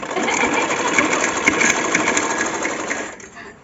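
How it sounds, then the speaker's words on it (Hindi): A sewing machine stitches clothes with a loud, steady rapid whirring rattle, running continuously before slowing and stopping near the end. "अब अपने कपड़े सिलाई कर रही हूँ।"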